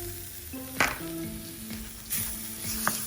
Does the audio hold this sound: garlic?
yes